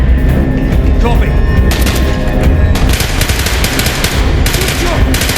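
Gunfire from Call of Duty: Black Ops, with bursts of automatic rifle fire and heavy booms that thicken into a dense volley in the second half, while soldiers shout over the battle.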